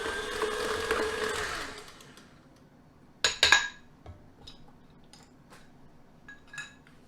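An electric mixer whirs steadily for about two seconds while creaming a sugar mixture with salt for a huckleberry cheese babka, then cuts off, leaving scattered clinks and taps of bowl and utensils.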